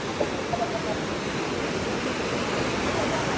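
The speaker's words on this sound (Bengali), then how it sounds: "আর জলের স্রোত দেখেছো, সেই রকম স্রোত।" Strong water current surging under Barmeshe bridge after fresh rains where people fish with nets, a loud, steady, unbroken rushing roar that fills the whole scene.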